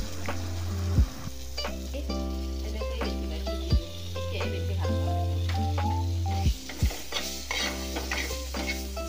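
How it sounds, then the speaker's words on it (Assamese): Small tomato pieces fry in a pan for an Assamese soyabean chunk curry, giving a steady sizzle broken by about three distinct scraping stirs of a spatula. "তাৰপিছত মই বিলাহী এটা সৰু সৰুকৈ টুকুৰা কৰি কাটি দি আকৌ ভাজি ল'লোঁ।"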